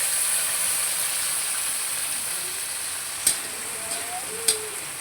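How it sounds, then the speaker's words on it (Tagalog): Chopped onions hit hot cooking oil in a pan for a Filipino miso sinigang with maya maya fish, giving a steady, close frying sizzle and hiss with a few sharp clatters of stirring near the end. "igigisa na natin ang ating sibuyas"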